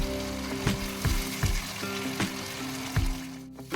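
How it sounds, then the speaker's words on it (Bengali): Spiced masala with beaten sour yogurt stirred and sautéed in a pan for a chicken nargisi kofta curry, giving a soft steady sizzle broken by repeated scraping and clattering strokes of a spoon. "টক দইটা দেওয়ার পর আমি মশলাটা আরও তিন চার মিনিট কষিয়ে নিচ্ছি"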